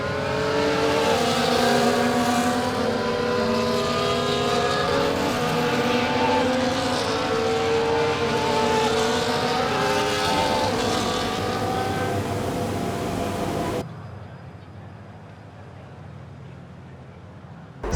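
Formula 1 race car engines from F1 24 drone loudly as cars line up on the grid in Canada, a dense layered roar of revs that cuts off abruptly to near silence.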